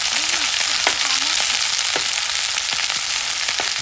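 Mixed vegetables seasoned with coriander powder fry in a pan with a loud, steady sizzle, broken by occasional stirring scrapes and small pops throughout.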